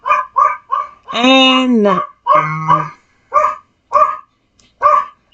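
A small dog yaps in quick, sharp bursts close by, with a drawn-out whining howl in the middle, while a person's voice is heard briefly among the barks.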